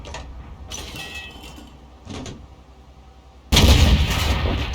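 A tank cannon fires in World of Tanks, a sudden heavy blast that jumps to full loudness and rolls on to the end, after quieter game rumble with a couple of softer distant shots.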